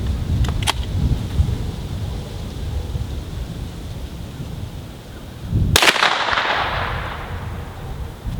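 A single loud, sharp 9mm report from a Hi Point carbine fires outdoors and rings off in a short tail, with a couple of faint distant pops earlier against wind-like background noise.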